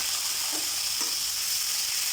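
Chopped dhatha saag stems drop into a pan of lightly browned onions, giving a steady, close frying sizzle with a couple of soft clatters of the greens landing, alone without talking.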